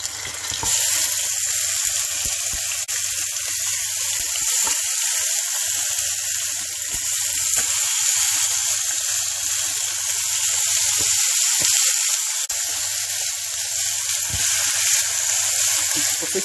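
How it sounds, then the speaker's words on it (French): Lamb chops grill in a pan with a little heated oil, giving a loud, continuous hiss and crackle that holds steady and close, with a low hum underneath and no talk. "vous pouvez commencer à faire griller"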